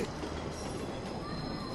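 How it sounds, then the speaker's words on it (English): Train pulling into a platform in the visual novel Chaos;Child, a steady rumbling roar of rolling rail cars with a thin high squeal of wheels rising near the end, continuous and fairly loud. "And then I heard the sound of the train coming in above me"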